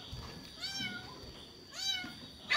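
Two clear meows from a house cat, each drawn out with a rising then falling pitch, close by and alone against faint room noise.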